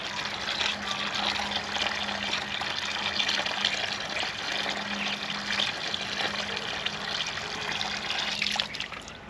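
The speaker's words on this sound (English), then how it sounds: "No, I'm just going to empty that because it's only water." Water from a flooded classic car's fuel pump pours out in a steady trickling, splashing stream, continuous and fairly close for several seconds before it tapers at the end.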